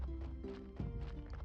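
A donkey arrives in the video game Graveyard Keeper with a short burst of hoof clops and a brief braying, whinny-like call, moderately close.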